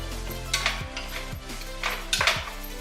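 Jackfruit stirred in a pot with a little brine and extra virgin olive oil for a vegan BBQ stir fry, with scraping clinks of a utensil against the pot, a few distinct knocks and faint sizzling underneath.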